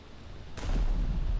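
Warship naval guns firing shells in a video game: a sudden sharp blast breaks in after a low hum, then rolls into a heavy booming rumble that stays loud to the end.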